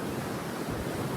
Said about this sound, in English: Look at this wave behind me.